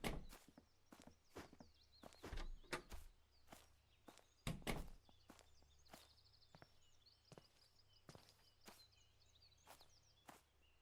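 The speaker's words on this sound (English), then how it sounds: "I'm hearing footsteps." Footsteps inside a house in a video game, a series of sharp thumping steps at an irregular pace, some louder and closer, over a faint low hum and quiet background.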